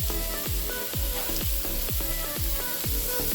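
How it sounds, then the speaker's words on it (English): Marinated lamb chops or ribs sizzle and crackle loudly and steadily in a hot pan, with a repeated rhythmic clanking or scraping laid over the constant frying hiss. "We want to hear that great sizzle."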